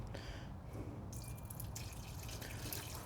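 Water pouring into the cooling system of a 1975 Mopar 360 V8 engine, a steady splashing, gurgling stream that runs continuously with a few louder surges, close by and with no talk.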